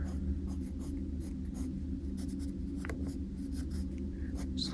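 Pen strokes of armor being drawn on a sniper concept sketch, a steady run of short scratchy marks on paper repeating in quick bursts for several seconds, close and alone without talk.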